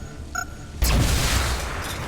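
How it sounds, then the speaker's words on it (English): A plasma grenade in XCOM: Chimera Squad goes off with a sudden loud boom after a short electronic chirp, followed by a sustained roaring, rumbling burst that slowly eases. "Throwing plasma."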